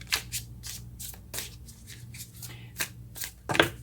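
Close, soft riffling and flicking of a tarot deck being shuffled, with repeated papery bursts and a sharper flurry near the end as cards fly loose; no speech.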